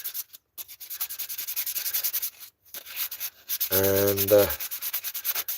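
An old gasket is scraped off a Zenoah 32cc two-stroke cylinder head with rapid, repeated rasping strokes close by. A voice speaks briefly partway through.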